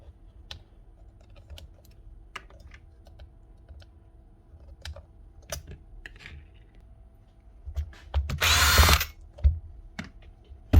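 A Makita or DeWalt power drill under repair testing gives a brief loud whirring burst after a stretch of scattered clicks and light handling noises, followed by a few more clunks.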